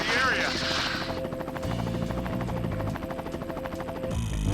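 A helicopter in the video game Armored Core: The Third Generation whirs with a steady buzzing rotor drone amid game effects and music, with voices talking over it.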